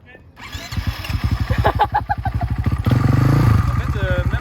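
A motorcycle engine chugs and revs unevenly during an attempted drift U-turn, loud rapid pulsing firing that builds and swells near the end, with voices talking over it.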